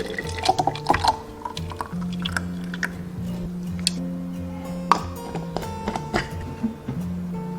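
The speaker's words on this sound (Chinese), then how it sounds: "然后倒入饮料瓶中" Blended kiwi Yakult drink, seeds kept in, poured from a blender into a drink bottle, a low steady liquid stream with scattered clinks and small splashes throughout, close and fairly quiet, no talking.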